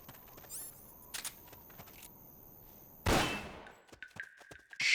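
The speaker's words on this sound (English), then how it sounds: "Shot fired!" A single sharp gunshot in Metal Gear Solid: Peace Walker bursts out midway, loud and close, amid quieter clicks and game sounds before and after.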